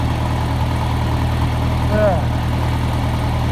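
A farm tractor engine idles steadily, a low constant rumble with a faint brief whine near the middle.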